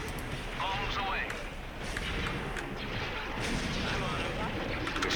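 Bombs dropping and exploding during an attack run in a space battle video game between Republic and Rebellion fleets, a continuous dense rumble of blasts and impacts with bright bursts throughout, layered under game radio chatter.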